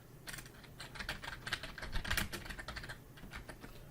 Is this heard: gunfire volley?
no